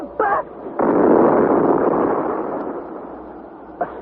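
A ball of electric fire bursts as a radio drama sound effect: a sharp crackling burst swells into a loud, sustained roaring rumble that slowly fades, with a brief pop at the end.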